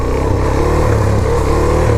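A Suzuki DRZ400SM motorcycle engine drones loud and close during a foot drag demonstration, a steady mid-pitched running note with slight rev wavering throughout, no voices.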